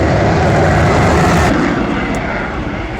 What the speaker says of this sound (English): This is the Eurofighter.